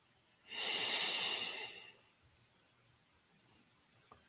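One long, close inhale through the nose during guided meditation, a soft airy rush lasting about a second and a half before fading into near silence.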